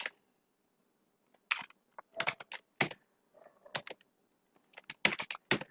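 Typing on a computer keyboard while writing HTML, heard as quiet, close, irregular bursts of key clicks separated by short pauses, with no talking.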